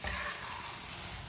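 Food sizzles in a pan as it is stirred, a dense, steady frying hiss heard close up for a brief moment without talk.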